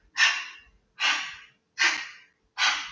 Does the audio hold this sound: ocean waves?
no